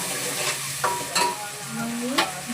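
Onion and tomatoes sizzle in a hot pan for a homemade puffed-rice dish, with three quick scraping stirs of a spoon cutting through the steady frying hiss.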